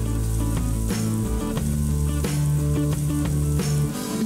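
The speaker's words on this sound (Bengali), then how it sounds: "মিডিয়াম টু হাই হিটে 3 টেবিল চামচ তেল গরম করে নিলাম। এখন এর মধ্যে আমি দিয়ে দিচ্ছি রসুন কুচি 1 টেবিল চামচ" One tablespoon of chopped garlic sizzles in three tablespoons of hot oil over medium-high heat, a dense, loud crackling fry with a low hum beneath and sharp pops every half second or so, without any voice.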